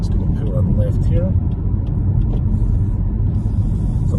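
A 2023 Lexus ES 300h hybrid sedan slowing as it pulls in, with a low, steady road rumble and soft cabin hum heard from inside, no engine roar, while someone talks over it.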